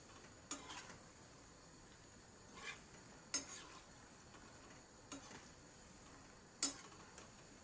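Food fries in oil in a pan over a low-medium flame, a quiet steady sizzle broken by occasional sharp scrapes and clinks as a spoon turns it over.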